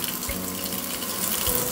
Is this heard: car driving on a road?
no